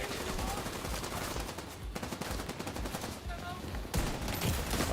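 Rapid automatic gunfire rattles almost without pause in the shooter game The Division 2, loud and close, with bursts overlapping and a brief dip before a fresh volley.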